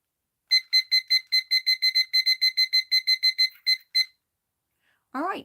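A classic 1980s kitchen timer alarm rings in a fast run of rapid, evenly spaced electronic beeps. It then stops, and a brief voice follows.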